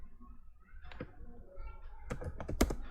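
Keys clacking on a computer keyboard while entering a command on an Amazon Linux server, a few scattered taps building to a quick burst of clicks and a firmer final press, close and moderately quiet.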